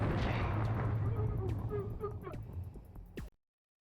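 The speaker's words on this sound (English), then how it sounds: "you gotta try and fucking dodge all these rockets" Rockets exploding in the video game O.D.T. build into a dense rumbling roar broken by sharp pops and blasts, which thin out and then stop abruptly.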